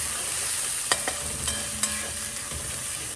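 Spices (chilli, cumin, salt, turmeric with ginger-garlic paste) lightly sautéing in a pan, a steady soft sizzle with a few sharp clinks of stirring against the pan, no voices.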